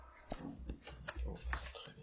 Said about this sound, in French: Maintenant, je pioche 5 cartes.